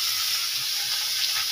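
Fish and leafy greens frying in a pan, a steady loud hiss and sizzle with no pauses, close up and alone.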